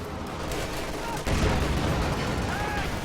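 Tank battle gunfire from the strategy game Company of Heroes 2, with bazookas firing at a command tank's armor: a dense, rumbling wash of cannon and gunfire with one sharp heavier impact mid-way.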